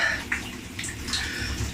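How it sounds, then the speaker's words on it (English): Cold shower water pours steadily, a continuous close spray with splashy hiss and shifting splatter as the stream strikes a body and surfaces. "It feels just like a normal shower."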